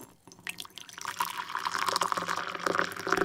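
Water poured into a glass, a soft start followed by a steady rising liquid fill for a few seconds, close and fairly quiet, with no talking.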